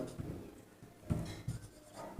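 Chalk or marker scratching across a classroom board during a Hindi lecture on Panchayati Raj, several short strokes in quick succession at moderate level, with no talk over it.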